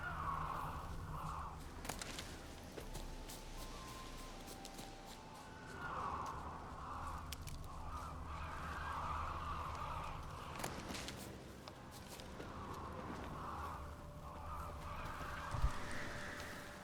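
Ravens cawing in the video game Witcher 3, repeated hoarse calls at a middle distance over a low ambient bed, with occasional footsteps.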